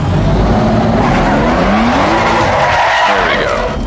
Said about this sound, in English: Let's turn off traction control so we can do a cool little spin turn around here.